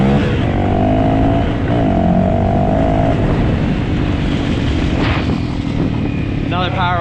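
A Honda CRF250L motorcycle, fitted with cheap performance mods, revs hard and accelerates in a power wheelie, its loud, steady engine drone rising and changing pitch as it pulls away, with wind rush throughout.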